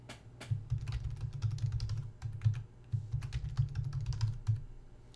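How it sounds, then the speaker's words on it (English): Fingers type a password on a computer keyboard, a close, quick patter of key clicks with a soft, hollow thump under each press and a brief gap midway. "So I type that in twice, and I'll save that account"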